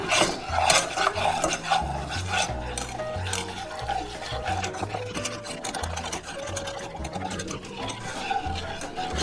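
Milk being mixed into a sauce in a bowl for chicken parmo: a steady, busy run of stirring and scraping strokes that repeats close up for several seconds, with no talk.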